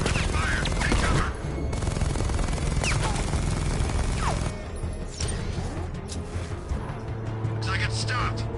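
Bursts of gunfire and mechanical clatter come from a Batman video game, with sharp cracks scattered across the stretch and a voice shouting over them.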